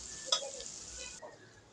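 Onion, garlic and ginger fry in a pan with a soft, steady sizzle and a brief clatter of stirring, moderately close, the hiss easing slightly toward the end.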